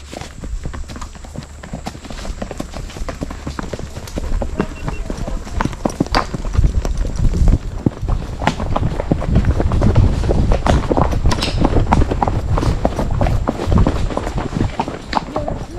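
A horse trots on a trail at Jordan Hollow Stables in Shenandoah, its hooves clip-clopping in a quick, steady rhythm close by that grows louder midway, while riders talk over it.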